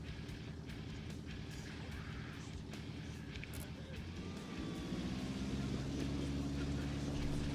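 The aircraft engine in X-Plane 11 holds a steady droning hum on an Alaskan bush flight, then revs higher and louder about halfway through as takeoff power comes on.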